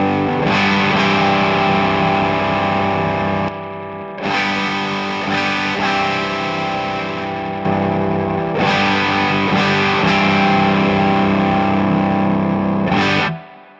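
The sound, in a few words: electric guitar through Keeley Noble Screamer overdrive pedal, ODR1 EQ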